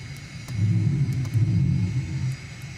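A propeller plane's engine in Microsoft Flight Simulator, flying a modded aircraft over the Alps, gives a steady low droning rumble that swells and holds close and loud for a few seconds, with no talk over it.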